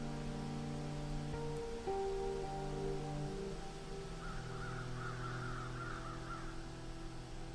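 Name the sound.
crow cawing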